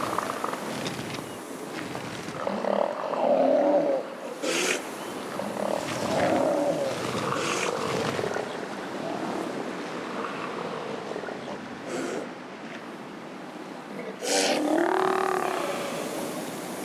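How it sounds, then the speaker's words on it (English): Elephant seals on a Patagonian beach giving deep, rough, drawn-out bellows and growls, several overlapping calls across a constant background of surf and wind, with no talk. "gigantic elephant seals, the largest and also possibly the worst-tempered pinnipeds ever to have existed"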